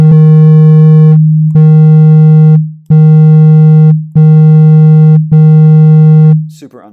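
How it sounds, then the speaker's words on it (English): A p5.js PolySynth software synthesizer repeats the note D sharp 3 five times in a steady, loud, pure electronic tone, each note held about a second with brief gaps between. "we don't want to just always play D sharp 3 because that will make us sound like a not very good pianist"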